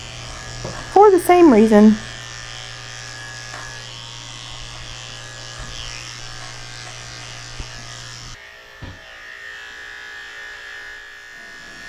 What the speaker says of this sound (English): I'm also shaving the inside of her back legs with a 7.